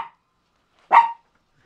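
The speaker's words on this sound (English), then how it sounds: "That's his I like you bark." A dog gives a single short, sharp bark at moderate distance in a quiet room, with a faint clipped sound just before it.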